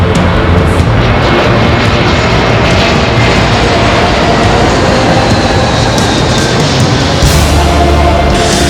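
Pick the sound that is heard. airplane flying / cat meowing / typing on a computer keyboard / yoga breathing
airplane flying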